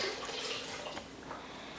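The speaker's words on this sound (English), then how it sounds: "I might add a little bit more water into it." Water poured onto a roast for pulled barbecue beef, a steady close splashing pour lasting a couple of seconds, fairly loud and alone.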